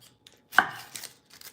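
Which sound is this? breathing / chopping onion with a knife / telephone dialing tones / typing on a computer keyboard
chopping onion with a knife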